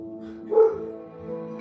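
A dog gives a single short bark over a faint steady tonal background, brief and moderately close, with quiet sound continuing after it.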